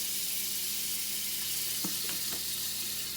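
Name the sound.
olive oil and butter sizzling in hot pan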